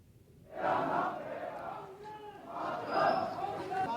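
Huge crowd gathered at an Indian pilot's funeral, massed voices swelling in two loud waves of chanted slogans from a distance, a sustained roar with a rhythm like a chorus.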